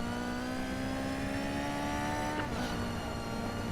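A Ferrari F40 with a 4.5 V8 engine accelerates in the racing game NFS Heat, a loud, continuous engine drone with a rising whine that shifts abruptly partway through, alone without talk.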